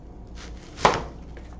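A knife slices through an onion in a single crisp cut, ending in a short thunk on the board, close and clear against a quiet kitchen background.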